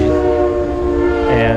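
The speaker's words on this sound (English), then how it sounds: "we have trains going by constantly" Sustained train horn from the digital Ticket to Ride game playing inside a house, a loud steady chord holding throughout with a faint voice underneath.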